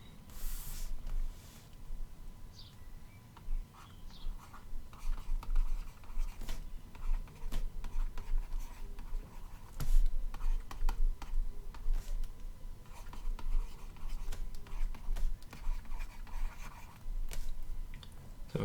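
A lecturer draws a 3D box on a board during a plasma physics lecture. The pen scratches and squeaks in short irregular strokes with taps between them, and the strokes come steadily for nearly twenty seconds in a quiet room with no talking.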